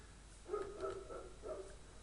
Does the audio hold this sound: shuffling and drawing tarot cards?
no